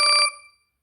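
Short bright phone notification tone, a 'New SMS notification 2' ringtone from a Zedge collection: a quick warbling chime of three or four rapid pulses, then a ringing tail that fades within a second.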